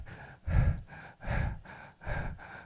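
A person imitates a baby's rapid, shallow breathing: three quick, audible breathy huffs in steady rhythm, close and clear with no other sound.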